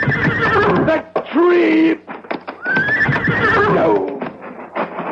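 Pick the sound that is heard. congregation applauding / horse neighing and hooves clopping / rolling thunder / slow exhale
horse neighing and hooves clopping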